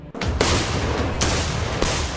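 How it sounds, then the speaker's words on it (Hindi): Children firing assault rifles at a firing range in North Ossetia, Russia: several loud, sharp gunshots crack at irregular intervals, each followed by a booming outdoor echo, with no voices. "यहां इस फायरिंग रेंज में बच्चे दुनिया के सबसे खतरनाक असॉल्ट राइफल चला रहे हैं"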